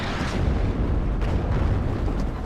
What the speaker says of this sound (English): He's gonna fire the grad there.